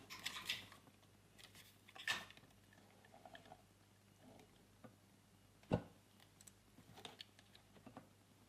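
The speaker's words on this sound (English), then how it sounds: "So if we cut the insulation back here," Small cutters snipping and stripping insulation from wire for motorcycle auxiliary light wiring, a few faint sharp clicks and snips spread apart in a quiet room.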